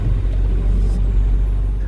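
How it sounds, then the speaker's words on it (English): A gasoline car's engine runs steadily with a low, continuous rumble that stays close and fills the whole stretch, with no one talking over it. "As you can hear, I still drive a gasoline car"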